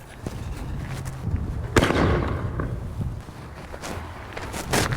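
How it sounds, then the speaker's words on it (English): An artillery shell firework launched from a cannon goes off with one sharp, loud bang, surrounded by outdoor rumble and wind noise. "this firework produces quite a bang"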